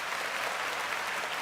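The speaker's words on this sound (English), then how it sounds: "We'll give him a round of applause" A dense, steady round of applause from a group, a continuous clatter of many hands during a sports talk show about the San Francisco 49ers.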